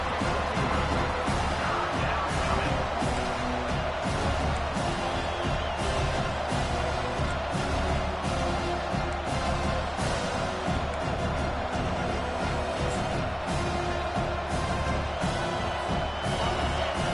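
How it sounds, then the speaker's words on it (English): Home crowd roaring steadily in a football stadium as the defense tries to stop a third-down play, a dense, loud, continuous wash of cheering and noise that carries on without a break. "Here comes this home crowd as the defense tries to get off the field on 3rd down."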